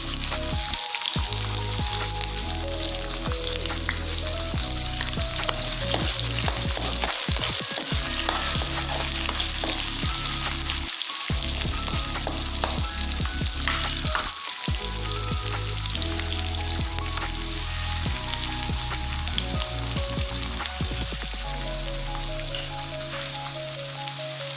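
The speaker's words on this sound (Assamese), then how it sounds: "মই এতিয়া মাছৰ তৰকাৰীখন বনাবৰ কাৰণে ইয়াত পিঁয়াজখিনি দি দিম" Onions frying in hot oil in a pan for an Assamese fish curry with mustard, after kalonji, cardamom and dried red chillies went in, a loud steady sizzle throughout with repeated stirring scrapes and brief pauses.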